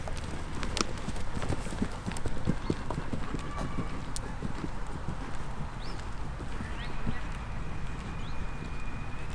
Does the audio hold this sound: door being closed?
no